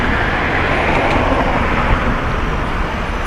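Road traffic with cars and trucks passing, a dense continuous roar and rumble of engines and tires that stays loud and close throughout.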